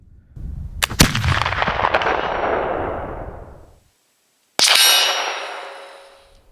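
Two Baker rifle shots fired at a target on an outdoor range, each a loud, close crack with a long ringing decay, the second following a brief silence.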